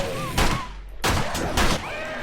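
Pistol shots crack in 7 Days to Die, three close, loud reports in quick succession over game background noise.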